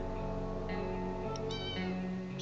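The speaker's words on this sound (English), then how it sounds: "Like, is the cat back?" A cat in the game 60 Seconds! Reatomized lets out two soft meows over a steady background music bed, fairly quiet and close.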